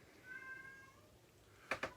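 A house cat meows for attention, a faint drawn-out tonal meow followed by two short, sharp chirping cries near the end, quiet and fairly close in a calm room.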